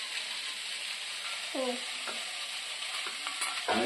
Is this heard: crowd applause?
no